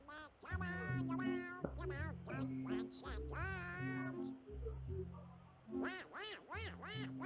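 Donald Duck's cartoon quacking voice chatters in rapid, raspy bursts over a loud, steady musical backing, with brief pauses before the quacks resume near the end.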